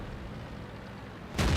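Tank cannon firing in a tank combat video game: a quiet rumbling engine bed, then a sudden loud, broadband cannon blast at the very end.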